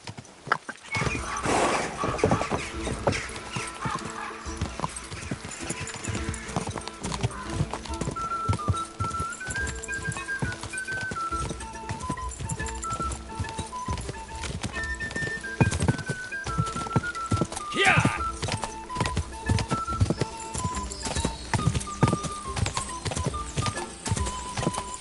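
A horse galloping under a rider in Kingdom Come: Deliverance II, rapid rhythmic hoofbeats pounding steadily for the whole stretch, a neigh breaking through partway, with a faint melodic music line running underneath.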